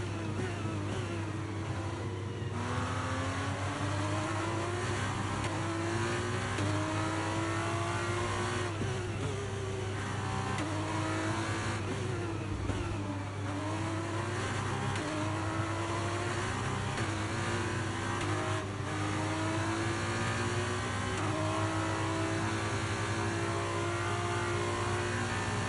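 A race car engine on the final lap in the Braking Point 2 racing video game roars continuously, its pitch repeatedly climbing and dropping through gear changes, loud and close with no talking.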